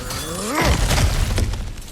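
Cracked ground in God of War Ragnarok smashes apart in one loud, close shattering crash, followed by a brief rumble of crumbling debris, with no other sounds.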